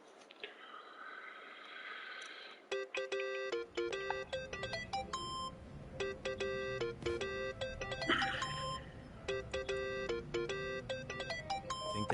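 A phone ringtone going off in the Yakuza video game, a repeating electronic melody of bright tonal notes in rhythmic bursts lasting several seconds, fairly loud and close over a faint game background.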